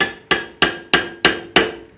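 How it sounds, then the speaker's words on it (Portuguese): Six light, evenly spaced hammer taps on a wooden dowel jig in a woodworking shop, each a crisp, close knock with a short decay and no talk. "Agora eu dou uma batidinha com o martelo de nada aqui de leve."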